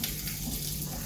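Tap water runs steadily into a sink while callaloo is washed stalk by stalk, a continuous close splashing rush with slight shifts as the leaves move under the stream.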